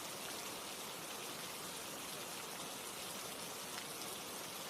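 Steady rain falls in a soft, even hiss with no breaks or distinct drops, faint and continuous throughout.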